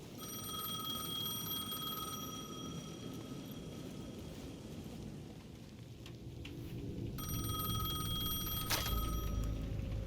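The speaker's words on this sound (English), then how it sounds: "The payphone at the edge of the plaza was ringing again." Payphone at the edge of a plaza ringing in the game Alan Wake 2, thin electronic trill bursts stopping and resuming over a steady rumbling rain-and-thunder ambience, moderately faint and somewhat distant.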